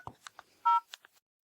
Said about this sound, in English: Let me do a phone call first.